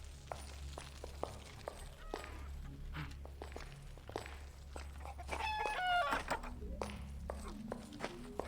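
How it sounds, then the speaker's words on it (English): A chicken clucks softly inside a bank in the video game Arx Fatalis, mixed with footsteps and scattered clicks over a low hum, with a short burst of chirping clucks partway through. "I guess you just have a chicken inside of your bank now."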